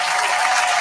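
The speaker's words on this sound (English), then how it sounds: "Let me clap for your brother though" Hands clap in steady applause for a short burst, close and fairly loud, with no talking over it, during a casual podcast conversation.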